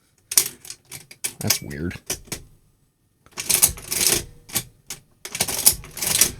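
A 1935 Remington Rand adding machine clacks and prints in quick mechanical bursts of key strikes and ratcheting, then a pause, then another dense run of clattering, with a brief spoken remark mixed in.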